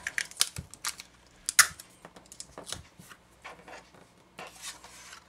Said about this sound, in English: Put a piece of tape in the back to secure it.